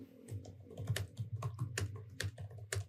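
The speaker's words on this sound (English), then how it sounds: "typing it, hacking away over there" Rapid typing on a computer keyboard, with irregular bursts of sharp clacking keystrokes up close and a low murmur of voices underneath.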